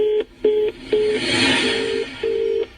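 A repeating telephone tone after a dropped call, five short steady beeps with even gaps between them, clear and moderately loud over faint background noise.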